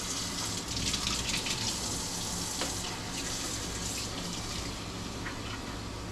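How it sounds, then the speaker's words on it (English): Tap water gushes steadily into a 1.5-liter watering can, a continuous broadband splashing rush that holds a fairly even level throughout with no talking. "We're gonna fill this mamma jamma with some water."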